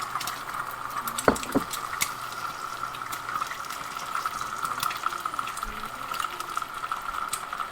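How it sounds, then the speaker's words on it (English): Grits cooking on a Hestan Cue smart pan, giving off a steady soft bubbling and popping simmer with a faint hum and one brief thump, heard alone throughout. "Why was it only bubbling in the middle?"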